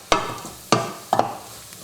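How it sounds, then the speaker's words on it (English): Spices are stirred through a hot pot of chilli chicken lentil soup in three short, distinct scraping sweeps, each with a brief sizzle trailing off between them. "Give that a quick move around so everything gets coated in those spices."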